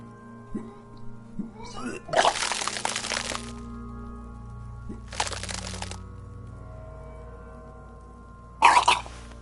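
Retching and vomiting, a series of strained throat bursts with wet, gagging heaves, two long surges followed by a shorter final burst, close and fairly loud over a low background drone.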